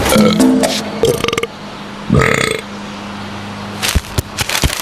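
A loud, drawn-out burp rumbles up in the middle of a busy television advertisement, surrounded by voices and background sound.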